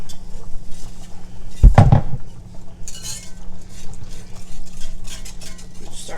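Heavy whipping cream being stirred into Delmonico potatoes in a pan, a soft continuous swishing with one brief loud clatter of utensil against the pot midway, over a steady low kitchen hum.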